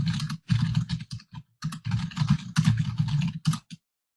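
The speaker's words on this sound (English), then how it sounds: "This time I type some arbitrary thing" Computer keyboard keys clack in quick irregular runs with brief pauses, close and clear, someone entering input into a program.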